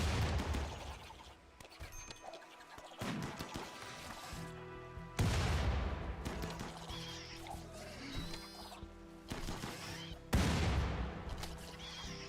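Gunfire from a RimWorld battle with rocket-armed soldiers: loud, rolling volleys of shots and blasts arrive in several heavy waves, each swelling and then fading.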